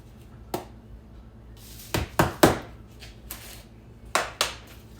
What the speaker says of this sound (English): Lid on it and shake it up.